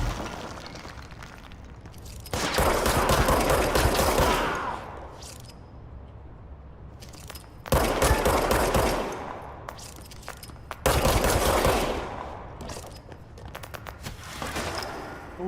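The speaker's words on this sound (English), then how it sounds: "Oh, that's a sniper." Sniper gunfire in the video game Control: loud, sharp shots cracking in three heavy bursts of rattling fire with shattering debris, separated by quieter stretches of ambient background.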